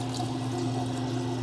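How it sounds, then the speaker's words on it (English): Tap water pours steadily over a Gillette Labs Bugatti limited edition heated razor, a constant close rushing stream with a low hum beneath it and no talk. "So there, let me shut the water off."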